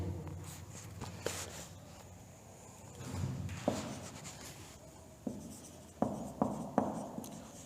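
Pens scratching on paper in a classroom, quiet scribbling strokes going on steadily for several seconds, with scattered soft knocks and shuffles, faint and with no talk.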